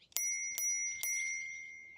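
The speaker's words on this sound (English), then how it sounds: "Like these little Engwe manual bells that kind of throw the sound forward a little bit." An Engwe manual bicycle bell gives three quick, bright dings about half a second apart, each ringing on and slowly fading, close and alone.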